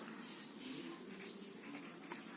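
Quiet pen strokes come one after another as the date is written on a lesson plan, the scratching soft and close.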